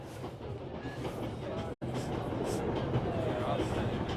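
A train rolls along its rails, a low rumbling drone with a steady rhythm that drops out for an instant midway and then resumes, fairly quiet, with faint voices.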